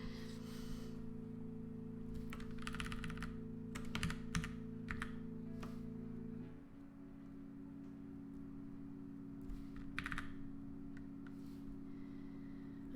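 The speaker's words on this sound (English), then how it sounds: "Again here, I'm using my arrow keys for all these fine adjustments." Computer keyboard arrow keys are pressed in scattered clusters of quick clicks, close and fairly quiet over a steady electrical hum, with no one speaking.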